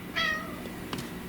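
A pet cat named Bella gives a single clear, close meow with a rising-falling tone, followed by a faint short chirp, indoors with no talking.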